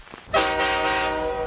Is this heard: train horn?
yes